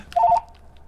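A telephone gives one short electronic trill, a quick warbling burst of two alternating tones lasting a fraction of a second, then near silence.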